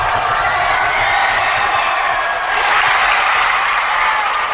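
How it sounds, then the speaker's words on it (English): A big crowd at a women's basketball game in the Show Me Showdown roars and cheers after a made free throw in a tight 54-53 contest. The noise is loud and sustained, with whoops and applause, and swells again partway through. "I want you to hear just the crowd reaction and how many fans were there and how loud they get"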